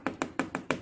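Five quick, light taps spaced evenly, a cup of Milo powder being knocked to settle and level it while making layered Marie biscuit batik cake, close and alone.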